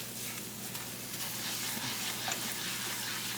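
Flour cooking in a hot pan as a thickener gives off a steady, soft sizzle with a faint crackle throughout, with no voices.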